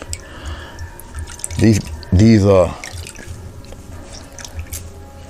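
Water drips and trickles from a mop paint brush being rinsed, a soft, close patter that runs throughout, with a brief spoken word partway through.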